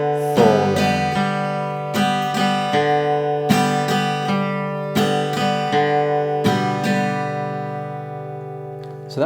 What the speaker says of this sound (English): we're going to pick the open D string, fourth string